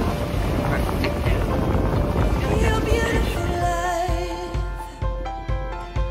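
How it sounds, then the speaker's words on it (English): Sailboat under way at sea on a perfect sailing day, with steady broadband wind and water rush close to the microphone, easing slightly toward the end as faint low knocks and tonal creaks appear. "The sailing is so great right now."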